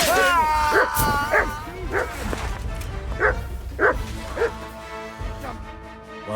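A dog in Kingdom Come Deliverance 2 gives a series of loud, close barks and yips spaced through the moment, mixed with voices and background game music.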